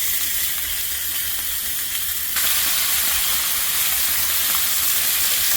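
Ham and bacon frying in a pan, a constant bright sizzle and hiss that swells louder partway through as more meat hits the hot oil, close and steady with no talk.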